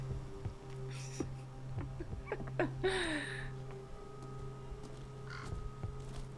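A crow caws a few times in the horror game Call of Cthulhu, the harsh calls rising over a low droning ambience with scattered clicks and soft knocks.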